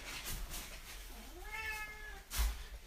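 A cat gives a single drawn-out meow with a rising then falling pitch, fairly close and moderately loud over faint room noise.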